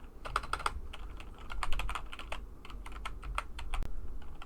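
Someone types on a computer keyboard in irregular bursts of quick clicky keystrokes, close and clear, with short pauses between runs and a heavier key thump near the end.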